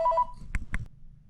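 Three quick electronic phone tones beep in rapid succession, then two short, louder clicky bursts sound close by, followed by low background rumble with no talking.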